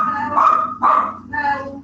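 A pet dog named Mel barks indoors: three loud, close barks in quick succession, each a short sharp yelp, with the room otherwise quiet.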